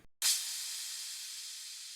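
A single cymbal note from a Classic House Remix sampler patch at C#3 hits sharply after a short silence, then rings on as a bright, hissy wash that barely fades over two seconds.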